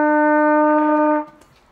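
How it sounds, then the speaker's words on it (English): A single sustained musical note E played on a three-valve brass instrument, steady and loud with rich harmonics for about a second, then cut off and fading into quiet room sound. "this is what E sounds like"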